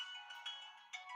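A mobile phone ringtone plays a bright, tonal melody of short repeated notes, moderately loud and continuous over a quiet room in a classroom.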